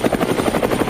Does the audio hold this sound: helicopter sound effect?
yes